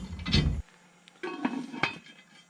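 A metal lid set down on a simmering pot at a campsite cooking setup: a loud clattering clank, then a pause followed by two lighter metallic clinks and a faint rattle.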